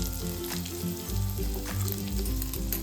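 Stuffed okra, bharwa bhindi packed with spice masala, cooks in a pan with a steady, close sizzle running the whole time under a low, tonal background hum.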